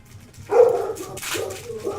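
A dog gives a short, eager bark, then a few softer yips and whimpers close by, all within a couple of seconds.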